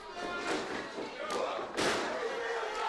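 Heavy thuds as a wrestler is knocked down onto the ring mat during a WAW match between two wrestlers, two or three dull impacts over crowd noise and an ongoing commentary voice.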